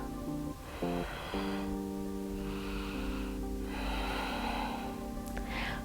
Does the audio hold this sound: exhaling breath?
yes